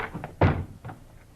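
Agents rushing a bedroom door in a kidnapping radio drama: one heavy thump of a door being hit or slammed open, flanked by a few softer knocks and bumps in a quiet room.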